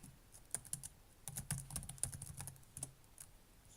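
Close, quiet clicking of a computer keyboard as a command is typed, irregular keystrokes in small clusters, no voice.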